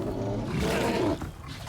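Bear roaring in the open-world survival game Icarus, a loud, rough, sustained growl lasting about a second before fading into ambient game noise.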